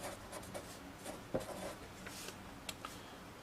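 A marker or chalk scratches briefly across a board during a mathematical induction lesson, producing faint, sparse strokes with quiet pauses between them.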